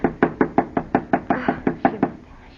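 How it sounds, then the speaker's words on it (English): Knuckles rap on a door in a steady run of about a dozen firm knocks, evenly spaced and close, in a radio drama setting. "Knock harder, Alice. Knock harder."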